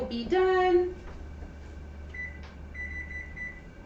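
A kitchen timer lets out one loud, clear electronic beep, followed by a couple of fainter tones, over a low, steady room hum.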